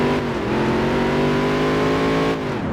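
A NASCAR race car engine in a video game revs hard against its rev limiter, a loud, sustained buzzing drone with rapid stuttering pulses, held steady before briefly dipping at the end.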